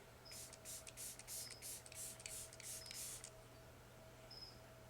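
A Glow Recipe setting spray misted in a quick run of about nine short pumps, each a soft airy hiss, close and fairly quiet over a faint steady hum, then a pause.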